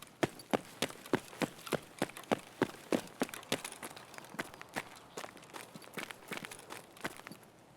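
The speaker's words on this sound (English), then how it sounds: "is that footsteps above me or what?" Rapid footsteps in Escape From Tarkov, a steady run of sharp, evenly spaced thuds for several seconds, fairly close and alone with no talk over them.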